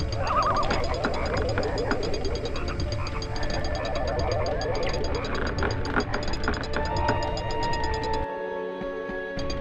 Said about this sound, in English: you start getting hit by frogs